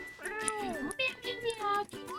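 A cat in the No, I'm not a Human video game gives several drawn-out, rising and falling meows close up, one after another with short gaps.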